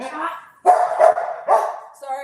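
A dog barks in short bursts in a home, a few loud yips and woofs close by, with people talking over and between them.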